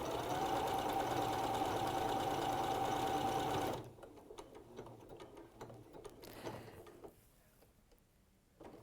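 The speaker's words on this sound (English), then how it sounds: "now I can press start and stitch it" A sewing machine stitches a small S shape with a fast, steady mechanical whir that stops abruptly partway through, leaving quieter handling clicks and room noise.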